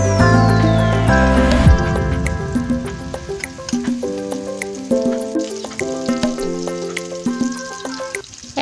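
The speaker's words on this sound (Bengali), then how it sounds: "তারপরে এই যে গোল গোল বেগুনগুলা এর মধ্যে দিয়ে দিচ্ছে কড়াইয়ের মধ্যে" Round eggplants frying in oil in a kadai give a continuous crackling sizzle with small popping spatters, heard under prominent melodic background music throughout.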